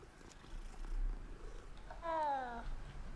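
A cat purrs after being petted in the video game Hogwarts Legacy, a soft low rumble followed by a brief tonal cat cry near the end, heard close and quiet.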